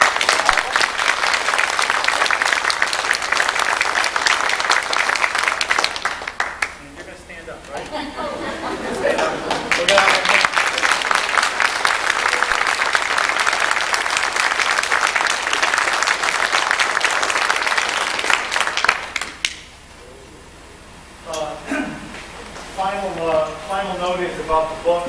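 An audience applauding in a hall for about twenty seconds, dense sustained clapping that fades out, then a pause and some chatter resuming.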